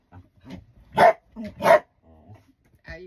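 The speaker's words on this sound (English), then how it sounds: "and then she barks because she's helping" A pet dog barks twice in quick succession, loud and close, between quieter yips and small sounds, with no talking.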